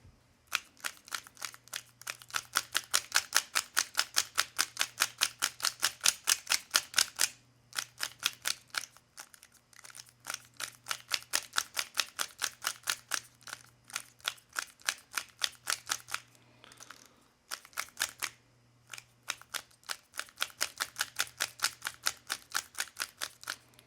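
An RS3M 2020 speed cube with a loose screw and spring noise being turned over and over, giving long bursts of rapid, crisp plastic clicks in quick rhythm, broken by short pauses, with a faint low hum beneath.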